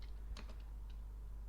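Quick, light taps on a computer keyboard while a script is being written, a short cluster of close, soft keystrokes and then quiet.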